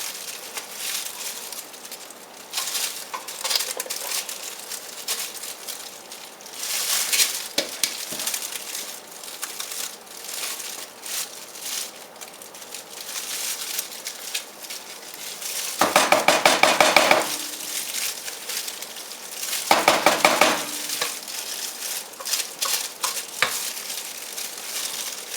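Soap-making bowls being scraped and cleaned, with continuous rough scraping and clattering, close and fairly loud, and two brief louder swishing bursts.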